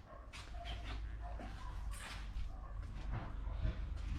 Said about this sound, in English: Oh, someone's lost their dog out there.